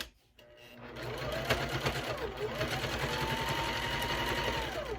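A sewing machine stitches steadily with a rapid mechanical whir and rhythmic needle chatter, speeding up after a brief pause at the start and running continuously.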